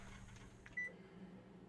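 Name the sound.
kitchen timer being set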